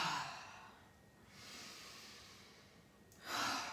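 Slow, audible breaths during yoga, with long airy exhalations rising and fading in a calm rhythm, close and soft, with no talking over them.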